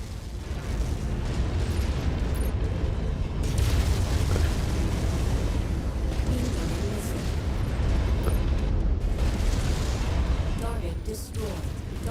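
Continuous booming detonations and heavy weapon blasts roll through a mech battle in MechWarrior 5: Mercenaries, dense and loud throughout, with speech partly buried in the din.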